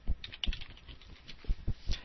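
Keys clacking on a computer keyboard while typing a word into a design program, a short irregular burst of close, distinct taps with brief pauses between them.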